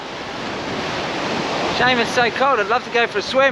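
Ocean surf rolling onto a cold beach, a steady broad wash with wind noise, loud and near, while a voice speaks over the second half.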